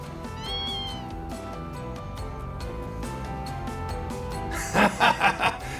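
A cat in the video game Ys X: Proud Nordics gives a few short meows, the clearest cluster coming near the end, set against steady background music.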